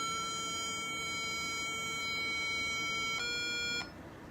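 An electronic tuner sounds the reference note A as a steady, pure sustained tone that holds for several seconds, swells slightly, then cuts off abruptly, alone without any voices.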